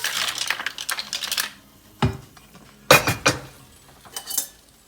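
Fresh PEI mussels go into a pan in several separate bursts of clattering, clinking shells, with quiet gaps between them and no talking.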